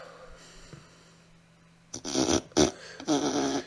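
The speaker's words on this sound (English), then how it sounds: "Alexa, make a fart sound." A synthetic fart sound effect from an Alexa smart speaker follows a quiet stretch, arriving as several loud, wet, sputtering bursts in quick succession.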